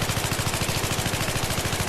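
Rapid, continuous automatic gunfire in Battlefield 3, loud and close, with evenly spaced shots rattling in a fast steady rhythm and no voices over it.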